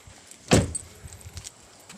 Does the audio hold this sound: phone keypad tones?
no